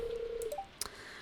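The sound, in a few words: phone dialing tones in Stardew Valley video game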